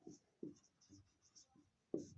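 Pen strokes on a board during a class 10 maths lesson. Several faint, short scratches come one after another with quiet gaps between them.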